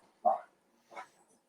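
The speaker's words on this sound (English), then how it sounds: "Sounds like my dog. Yeah, a little yapper." A small dog gives two short, sharp yaps, the first louder and the second fainter, heard at a moderate distance in an otherwise quiet room.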